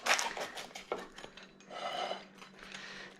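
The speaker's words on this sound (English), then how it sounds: "And go ahead and get this cut." A no-sauce pizza topped with olive oil, cheese and Parmesan being sliced, with scraping, clinking cutter-on-pan sounds in short bursts and a longer rasping pass through the soft crust, close and fairly quiet.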